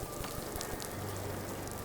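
Rain for a night driving scene in the film Halloween, made with a hose in a garage: a dense, steady hiss and patter of water drops on a surface, fairly faint and continuous with no voices.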